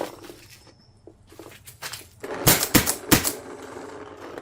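Paintball marker fitted with a Shock-Tech bolt fires three sharp close shots at the end of a run of quieter handling clicks and mechanical fiddling, with no talking.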